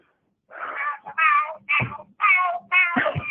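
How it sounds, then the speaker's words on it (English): A birthday card's sound chip plays cats meowing the tune of Happy Birthday, with five loud, close, tinny meow notes in a steady sequence. "So it has cats yelling happy birthday to you, right?"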